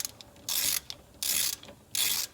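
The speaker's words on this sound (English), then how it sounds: "Now I'm just going to take my ratchet and see if I can't get on there, and then tighten it down with the ratchet." A hand ratchet tightening brake slide bolts during a brake job, three quick bursts of rapid clicking close by, separated by short pauses.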